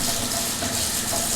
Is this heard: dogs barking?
no